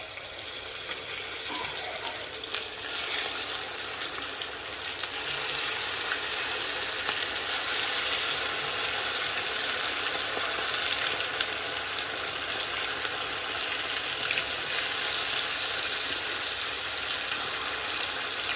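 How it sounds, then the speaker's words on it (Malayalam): Beef pieces for a Kerala-style dry fry sizzle in hot coconut oil in a kadai, a steady, close crackling hiss that holds for the whole stretch without talk. "ആ ബീഫ് നമുക്ക് ഓരോന്നോരോന്നും നമ്മുടെ ഇത് ഓയിലിലേക്ക് ഇട്ട് കൊടുക്കുക"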